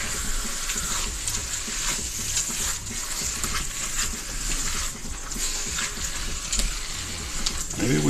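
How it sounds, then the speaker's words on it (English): Water runs from a kitchen tap into a cooking pot being filled for pasta, a steady close rushing stream that holds unbroken for the whole stretch. "Getting close to putting water in"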